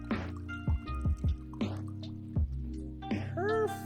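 Scotch whisky poured into a custom-made glass: a close series of glugging, dripping plops with a brief liquid ring at the end, fairly loud and without talk.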